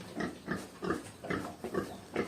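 Pigs on a pig farm grunt and snort in a steady series of about seven close, rhythmic bursts, each a rough, throaty grunt spaced roughly a third of a second apart, with no talking.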